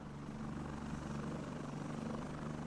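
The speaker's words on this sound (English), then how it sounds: "both helicopters steaming towards the middle of the map." Helicopters in a military video game, a steady droning rotor and engine hum with a continuous low throb, moderately loud and unchanging throughout, with no voices.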